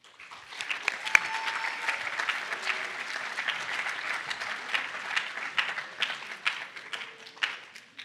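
An audience at a keynote event breaks into steady applause welcoming the speakers, many hands clapping in a sustained, fairly loud wash that rises and holds across the whole stretch.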